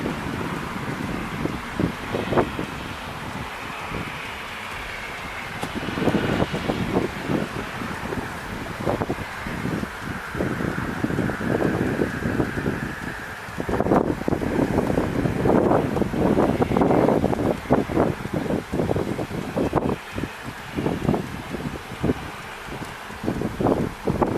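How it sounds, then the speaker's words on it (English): Gusting wind buffets an outdoor microphone in uneven, rumbling bursts that swell and fade, loud and close throughout with no voices. "Wind blowing, making it a little difficult."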